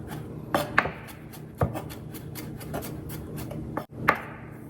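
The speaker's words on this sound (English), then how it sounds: "So I'm just gonna do 1 clove and try to chop it up." A knife chopping a single garlic clove on a cutting board, a handful of irregular sharp taps spread over several seconds, close and clear without talk.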